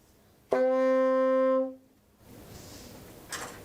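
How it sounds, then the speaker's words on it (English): A single sustained tenor saxophone D note, steady and fairly loud for just over a second, then it fades, followed by quiet room noise and a faint rustle. "Now the D."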